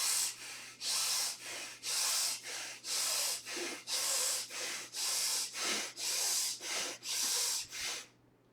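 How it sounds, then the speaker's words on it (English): Slow, steady belly breathing in a calm meditation setting: about fifteen long, even breaths, each inhale and exhale a soft airy rush close to the ear, with brief pauses between them and no talking. "Start with the belly breathing."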